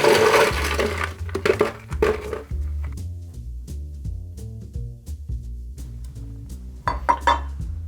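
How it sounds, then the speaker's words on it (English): Ice stirred in a mixing glass for a dirty martini, with bright clinks and knocking of cubes against glass, a louder jangle at the start and end and lighter scattered clinks between. "we are going to stir this in my mixing glass, for about 30 seconds"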